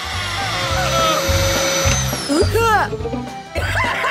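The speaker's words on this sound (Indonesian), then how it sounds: "Vacuum cleaner." A vacuum cleaner runs with a pulsing, whirring motor drone, loud and close, while squeaky cartoonish voices and chirps sound over it.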